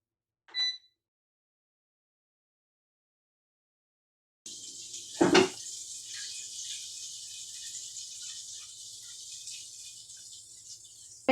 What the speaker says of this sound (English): Halfway through, I'm going to flip these wings over.